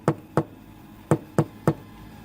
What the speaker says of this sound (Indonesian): Ia pun kemudian mengetuk pintu dengan pelan.